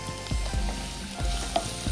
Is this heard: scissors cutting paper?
no